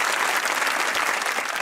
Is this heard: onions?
no